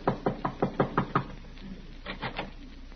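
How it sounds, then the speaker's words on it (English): Knuckles rap nervously on an apartment door in a quick run of about seven close knocks, a short pause, then a softer cluster of three or four taps, in a quiet interior. "he is tapping a bit nervously at the door of Miss Jessup's apartment"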